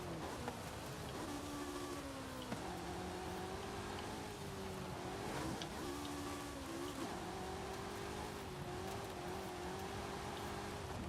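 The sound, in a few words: DeLorean race car engine in Forza video game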